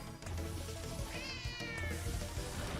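A cat creature in the video game Nexomon: Extinction meows in a wavering cry over dense, loud game music.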